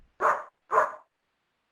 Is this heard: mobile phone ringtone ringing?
no